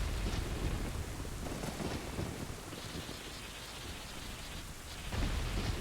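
Heavy rain and thunder from a storm in the video game Ocarina of Time pour down as a thick, steady roar, with low rolling rumbles swelling near the start and again toward the end, no voices present.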